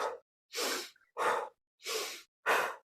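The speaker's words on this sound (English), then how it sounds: "You're going to go inhale." A person breathing deeply through the belly in a slow rhythm, five loud, close breaths in and out of roughly equal length with short silent pauses between them.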